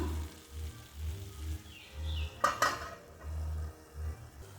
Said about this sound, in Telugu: మనం ఈ కారం కొంచెం ఈ ముక్కకు పట్టేంత వరకు ఒక 1 నిమిషం పాటు అయితే మనం ఉడికించుకుందాం.